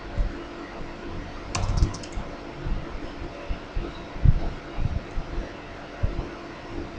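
Intermittent keystrokes on a computer keyboard while configuring a Cisco intrusion prevention system, a few scattered taps and short bursts, close and quiet, with no talking.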